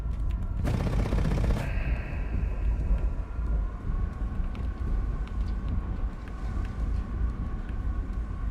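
An aircraft gun fires in War Thunder, a dense roaring burst of about a second over a steady engine rumble, which continues afterward with faint scattered clicks.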